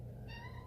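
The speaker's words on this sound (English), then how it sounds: "my cat has been meowing at me" A pet cat gives a single short meow, faint against a steady low hum in a quiet home.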